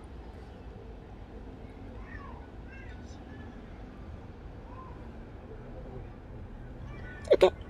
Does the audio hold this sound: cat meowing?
yes